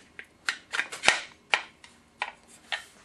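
Several sharp metallic clicks and clacks sound up close as a Tapco Intrafuse tri-rail is fitted into the groove on a Saiga rifle, coming in irregular bursts with a louder snap near the middle.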